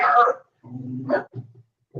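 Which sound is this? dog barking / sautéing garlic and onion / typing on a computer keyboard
dog barking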